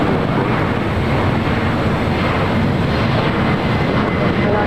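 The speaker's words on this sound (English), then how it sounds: "We got a Delta 767 400 ER now rolling down" A Delta Boeing 767-400ER jet rolls down runway 25 right at LAX for takeoff, heard as a loud, steady broadband roar of engines mixed with wind buffeting on the microphone.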